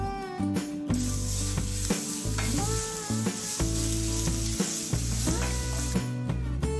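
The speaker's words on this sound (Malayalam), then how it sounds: "ഇനി ഇതിലേക്ക് നമ്മൾ ചതച്ചു വെച്ചിരിക്കുന്ന ഇഞ്ചിയും വെളുത്തുള്ളിയും ചേർത്ത് കൊടുക്കാം." Crushed ginger and garlic sizzle in hot oil with cumin and mustard seeds while making a dates pickle, a loud steady frying hiss with stirring scrapes, and background music throughout.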